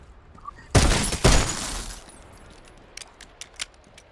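Glass shattering in a video game, two loud crashing bursts of breakage close together with scattered tinkling shards afterward, faint talk nearby.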